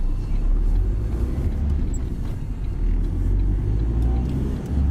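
A city bus on route 57A in Glasgow, turning back into Glenmorrison Road near Darnley, gives a steady close low engine rumble and road drone that holds throughout with little change.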